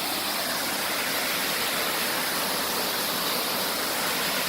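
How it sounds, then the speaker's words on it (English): A waterfall on a river along the Franconia Brook Trail roars in a steady, dense broadband rush, loud and close, with no other sounds. "look at the falls here"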